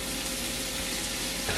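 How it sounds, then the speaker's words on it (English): Ground beef sizzles and crackles steadily in a hot frying pan, a loud, close, continuous hiss with no talk over it. "as I'm cooking the ground beef"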